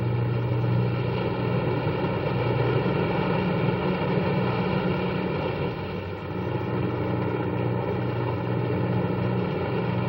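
Steady, loud drone of propeller-driven aircraft engines in flight, a continuous even hum with strong low harmonics that holds unbroken for the whole stretch.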